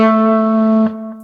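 An electric guitar sustaining a single note through effects, a loud, steady harmonic-rich tone ringing close up, then damped near the end with a faint pick or fret click.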